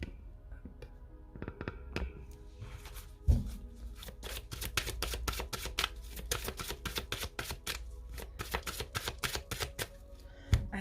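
Oracle cards being shuffled by hand, a dense run of quick riffling snaps and slaps, close and crisp, continuing for several seconds after a few scattered taps.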